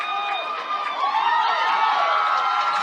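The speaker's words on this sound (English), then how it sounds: "Mustang crowd getting into it for the 35-yard line now" Crowd noise from Mustang fans at a high school football game, Fort Morgan at Palisade, a steady roar of distant cheering and shouting that swells slightly partway through.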